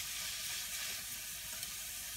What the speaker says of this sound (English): now we're frying the shrimp so it doesn't have like a bad smell